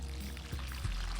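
Water poured gently onto the soil around the roots of newly planted herbs in a container garden, a soft steady trickle with a couple of brief splashy gurgles.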